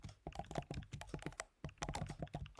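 Rapid, uneven keystrokes clatter on a computer keyboard in short bursts with a brief pause midway, close and fairly quiet.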